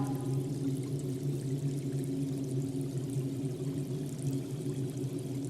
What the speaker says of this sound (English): It's a natural well formed by the running water.